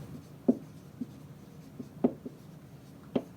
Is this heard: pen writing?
yes